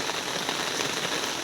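Steady rain pours down in Dharmapuri, dense and continuous, with a close hiss of drops pattering on an umbrella and surfaces.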